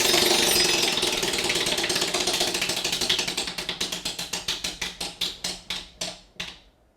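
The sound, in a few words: game show prize wheel spinning and clicking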